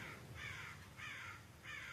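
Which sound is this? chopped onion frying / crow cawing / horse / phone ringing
crow cawing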